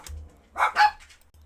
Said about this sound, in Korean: 갑자기 애들이 짖어가지고